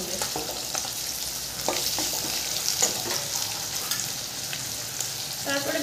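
Chopped tomato and dried chilli-cumin paste hit onion and ginger-garlic in a hot pan, giving a steady close sizzle with scattered stirring scrapes and clinks throughout.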